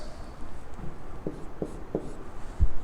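Writing on a board during a lesson: three short scratchy strokes in quick succession, followed by a duller tap, all fairly close against a quiet room hum.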